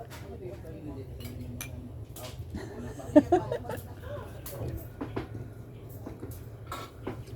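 Cups of sikwate, a hot chocolate made from tablea, clink together in a toast: a couple of quick, bright taps close by, with people chatting and chuckling around them.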